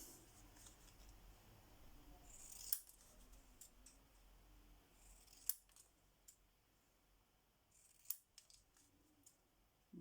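Scissors snip through paper in a quiet room, several sharp crisp cuts spaced a few seconds apart against a low steady background.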